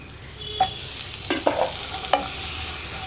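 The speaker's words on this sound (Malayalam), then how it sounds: "തക്കാളിയും കൂടി ചേർത്ത് നന്നായിട്ട് ഇളക്കി കുക്ക് ചെയ്തെടുക്കുക." Chopped tomatoes with spice powders fry in oil for kadala curry, a soft, steady sizzle broken by several distinct scrapes and clacks of a spoon stirring the pan; no voices.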